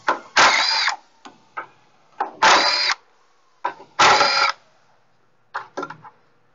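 A 10,000 foot-pound hydraulic torque wrench runs in short, loud whirring bursts with quick clicks between them, stopping and starting unevenly at close range.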